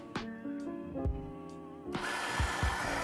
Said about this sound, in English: So first I'm going to grind the beans.